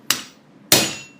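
A hammer strikes a hot piece of steel twice, the second blow louder, each a sharp metallic clang ringing out briefly, close and alone without speech.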